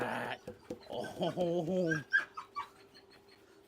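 Bailey, a pet dog, lets out a whiny, rising-and-falling whimper lasting about a second, close by and fairly clear, with a person's short exclamations just before and after.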